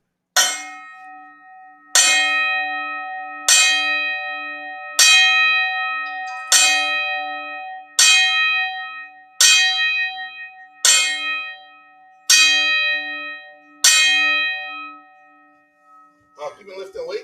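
A bell rings as a ten-count tribute, ten loud, resonant strikes at an even pace about every one and a half seconds, each one ringing out and fading before the next, with a low steady hum underneath.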